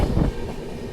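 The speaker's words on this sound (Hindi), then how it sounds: "बहुत ही तेज़ आई है ट्रेन।" A train rushes past at speed, a brief rumbling roar loudest at the start and then fading into a steady rolling hum within a second.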